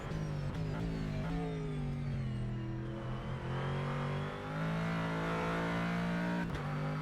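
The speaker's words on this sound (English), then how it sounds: "Right-hander try to keep the foot down and just try to steer the car not into the grass." Corvette Callaway GT3 engine in a racing sim game, a loud continuous drone holding steady through a corner with slight pitch dips and rises as the throttle stays down, heard alone without talk.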